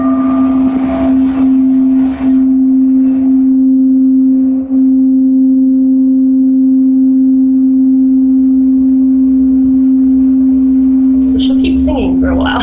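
Singing tone instrument sounding a C note, a loud, pure sustained ringing hum held steadily throughout with soft overtones, while a voice talks briefly at the start and end.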